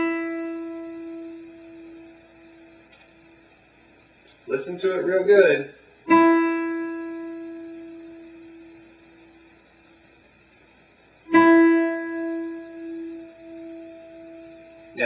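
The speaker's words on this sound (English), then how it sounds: "tune the high E string, and it sounds like this" A guitar's high E string is plucked open as a tuning reference, twice, each time ringing a long, pure tone that slowly fades. Someone speaks briefly before the first pluck.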